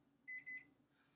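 A kitchen timer alarm goes off while banana recipes are being made, giving two short electronic beeps in quick succession, fairly faint and clean with no voices.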